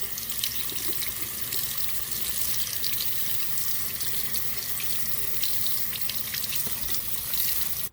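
Tap water runs steadily into a sink while an Xbox 360 disc tray rubber belt is washed, a continuous close hiss and splash that never pauses.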